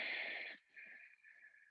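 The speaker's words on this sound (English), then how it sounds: "And exhale." A long, breathy exhale during a slow relaxation flow, loud and airy at first, then tapering into a softer, thinner breath that trails off.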